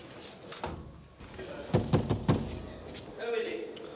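Four sharp knocks rap on a door in a quick, even series, close and fairly loud, with voices talking before and after.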